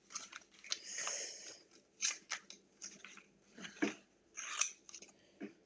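Scissors cut through paper in a series of uneven crisp snips and rustling slices, close and fairly quiet, with no talking.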